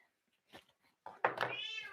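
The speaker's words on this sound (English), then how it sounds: "There's the kitty." A house cat gives a drawn-out rising meow near the end after a few faint soft sounds, close and clear, with no speech.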